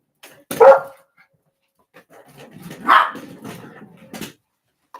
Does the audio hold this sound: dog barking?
yes